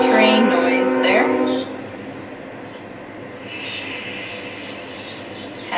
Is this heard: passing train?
yes